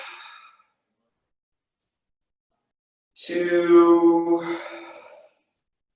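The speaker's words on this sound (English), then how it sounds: "3 big deep breaths to close." A single deep breath drawn in during a kids' training session, a long soft inhale and exhale of about two seconds after a stretch of silence, with a brief spoken word just before.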